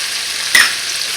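Ghanaian taro leaf (kontomire) stew frying in a pot, a constant close hiss of sizzling with a single brief scrape of stirring midway.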